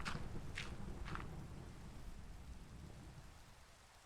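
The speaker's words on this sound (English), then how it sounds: "Is this a thunderstorm out of nowhere?" Steady rain pours in a Minecraft thunderstorm, a dense continuous hiss with a few sharp bursts early on, gradually thinning toward the end.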